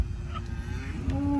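Cattle on a farm mooing, a low drawn-out call rising near the end, heard over a steady engine-like rumble from a side-by-side utility vehicle.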